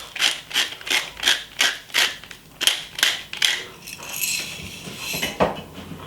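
A pepper mill grinds cracked pepper over a fresh salad in a rhythmic run of about eight crisp, gritty crunching bursts, close and fairly loud, followed by a softer stretch of scraping and clinking.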